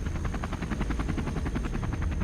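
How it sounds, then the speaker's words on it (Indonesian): A Red Cross helicopter flies over the jungle with a loud, steady rotor chop. The quick pulsing beats repeat evenly over a low engine drone and stay close and constant throughout. "Ineens is er paniek in de jungle als de gijzelaars het geluid van een helikopter horen."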